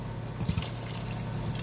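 Water pours steadily into a cooking pot of mung bean stew with arugula, a continuous close, moderate splashing fill with a slight burble partway through, no voices.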